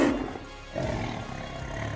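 A tiger gives a loud, rough roar, with a growling burst at the start and a second sustained rumbling roar that carries on steadily, heard alone with no voices.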